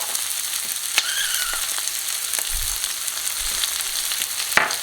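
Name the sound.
mushrooms and onions frying in a pan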